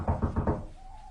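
Four quick, hollow knocks on a wooden door in a BBC radio drama of Agatha Christie's The Murder of Roger Ackroyd. The knocks are close and evenly spaced, and a faint tone lingers after them.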